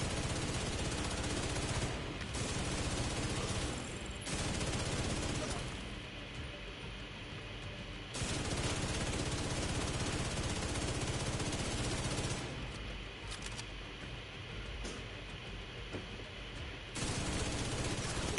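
Sustained rapid automatic gunfire in the video game The Division 2, with dense continuous bursts stopping and starting in long stretches, loud and close, with a voice talking quietly underneath.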